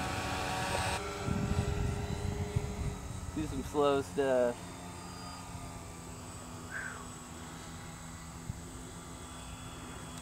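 A homemade radio-controlled Cessna Skymaster model plane buzzes past outdoors with a steady motor drone that rises briefly in a quick pitch sweep on a low pass, while a person speaks over it.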